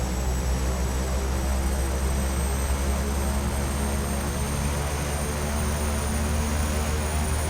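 Beechcraft 1900D turboprop engine number one spooling up in the X-Plane 10 flight simulator, a steady loud whine and propeller drone with a high tone holding throughout, no voices.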